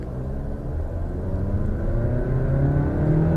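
A 2017 Mazda CX-5 accelerates hard from a standstill, its engine rumbling and rising steadily in pitch as it pulls through the gears, heard from inside the cabin with no talking.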